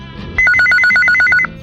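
A telephone rings loudly with a rapid, trilling electronic pattern, one ring burst of about a second, as a call comes into an Akashvani radio phone-in request show.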